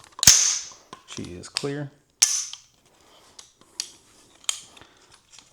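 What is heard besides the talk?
clearing an AR rifle, working the action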